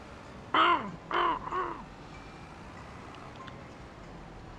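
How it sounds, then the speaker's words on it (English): Ravens and crows in a farming video game give three harsh caws in quick succession, the last drawn out, then fade into a steady ambient hum. "The ravens and the crows"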